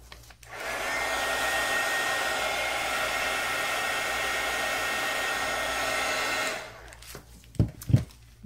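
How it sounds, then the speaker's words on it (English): A hair dryer blows on artwork, a loud, steady whoosh that switches on, holds for about six seconds and cuts off, followed by a couple of light handling knocks. "Then I'm going to dry that real quick."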